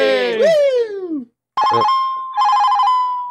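A voice speaks or sings at first, then a telephone rings in two bursts of fast trilling electronic ring, loud and close.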